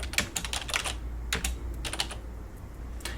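Keys clatter on a computer keyboard in quick irregular bursts of clicks separated by short pauses, close and clear with no talking.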